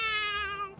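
A person imitates a cat with one drawn-out, clear meow, close and fairly loud, lasting under a second with no other sound around it.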